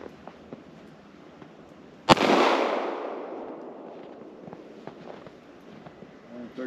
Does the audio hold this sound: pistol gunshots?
yes